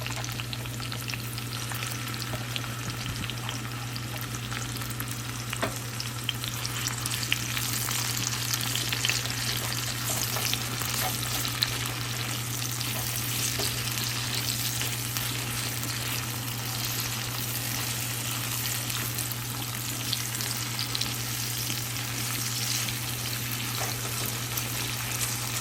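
Bitter gourd curry with light spices frying and being stirred in a pan, a steady close sizzle with scraping stir strokes running throughout, no voices over it.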